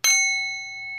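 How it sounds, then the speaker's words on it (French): A small gong struck once, close and clear, its bright metallic tone ringing on steadily and fading slowly over a second. "Tadam, un petit gong."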